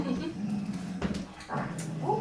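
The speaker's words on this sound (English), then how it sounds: "the dogs can go out there, and we hear them now" Dogs at home bark and whimper in short excited bursts and whines, mixed with a voice speaking nearby.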